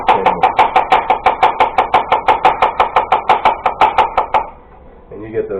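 A knife slices garlic thinly on a cutting board in quick, even rhythmic taps, about five per second and close up, stopping abruptly before a faint trailing sound.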